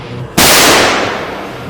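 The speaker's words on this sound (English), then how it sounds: "So he switched to his Glock 17 sidearm and began firing." One loud, close crack from a Glock 17 pistol fired amid an undead attack, a sharp bang followed by a fading tail of echo after a brief quiet lead-in.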